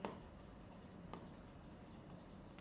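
Marker or chalk scratching across a board as a word is written, soft continuous rubbing strokes with a couple of sharper taps, faint and close with no talk.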